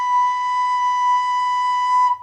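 A recorder holds the note B as a single clear, steady tone for about two seconds, moderately loud and alone, ending cleanly.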